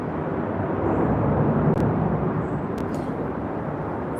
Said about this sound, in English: There's a big plane going by. My goodness, it must be flying low.